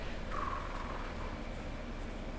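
Bird calls in Death Stranding 2, a single brief tonal call near the start over steady ambient game noise, with no talking.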